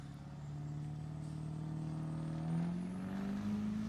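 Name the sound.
Chevrolet Silverado crew cab diesel truck drag racing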